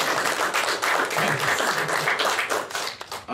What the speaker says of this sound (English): I feel like that deserves a round of applause by itself